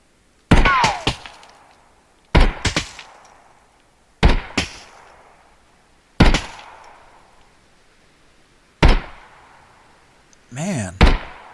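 Gunfire in the video game Contractors Showdown ExfilZone comes as loud, sharp single shots and short bursts spaced a couple of seconds apart. Each shot has a ringing tail, and a rapid double burst lands near the end.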